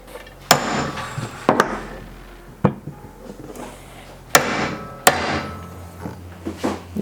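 Sharp hammer knocks drive a new OEM Honda crankshaft seal into a K24 engine's front cover, about seven irregular metallic strikes of varying strength, close by, with no talk.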